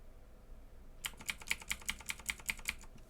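Someone types on a computer keyboard that has a few unreliable keys, giving a quick run of about a dozen crisp, evenly spaced keystrokes after a second of quiet; the tapping is soft and close, with no talking.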